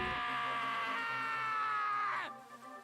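A woman's scream in the video game Danganronpa: Trigger Happy Havoc: one loud, sustained high-pitched cry lasting about two seconds that bends downward and cuts off abruptly, followed by faint background tones.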